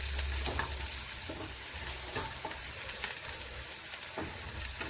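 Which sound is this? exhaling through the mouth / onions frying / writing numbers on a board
onions frying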